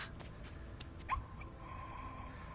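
A little dog in the video game RiME gives a soft, brief whimper, faint and high against a quiet ambient game backdrop.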